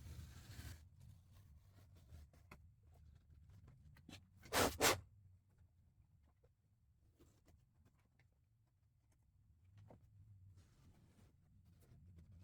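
Blade slicing along the edge of a jet ski seat cover, quiet scratchy cuts with one louder rasping tear near the middle, between faint handling noises in a calm space.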